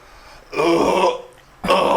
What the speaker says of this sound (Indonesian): Ibu mah dia yang sendawa.